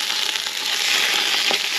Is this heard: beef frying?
yes